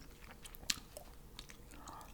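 Bubble gum is chewed softly and close up, with faint wet smacks and one sharper click. The chewing stays quiet over a low background hiss.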